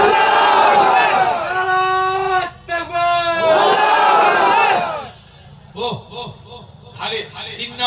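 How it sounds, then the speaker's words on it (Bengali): A large crowd at a Bengali religious gathering roars takbir in unison. Several long, loud surging shouts rise and fall, then give way to scattered quieter voices and a preacher's talk. "তাকবীর মারবে।"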